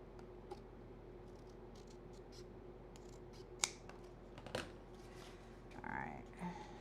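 Scissors snipping off a glued-on paper piece while crafting a steampunk mini album, several sharp close cuts and paper rustles spread across quiet room tone.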